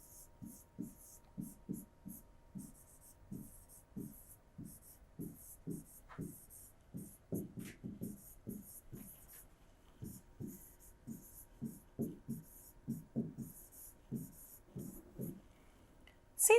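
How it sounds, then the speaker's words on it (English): A pen scratches across paper in short, steady strokes, a quiet rhythmic series of scribbles that continues for a long stretch, with a soft click near the end. "So let's write now."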